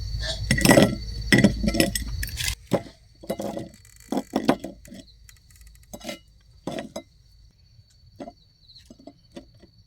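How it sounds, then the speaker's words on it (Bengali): Crispy river-shrimp pakoras are set onto a plate with sharp clinks and taps of food and utensils against the dish, loud and clustered at first, then sparser and softer. "আমি এবার পকোড়াগুলো প্লেটে সাজিয়ে নিচ্ছি।"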